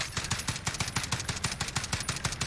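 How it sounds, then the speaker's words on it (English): FAL rifle fired rapidly in the Warzone video game, a fast, even stream of sharp, loud gunshots cracking one after another for the whole stretch, with no voices. "Just rapid fire in this FAL"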